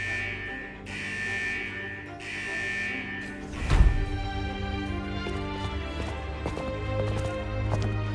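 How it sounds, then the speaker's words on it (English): An alarm sounds through a vault in the video game Wuthering Waves, a steady, repeating electronic tone in two long bursts, then a loud thud followed by layered game music and effects. "Is that the central alarm of the vault?"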